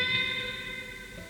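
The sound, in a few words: guitar string bend on the B string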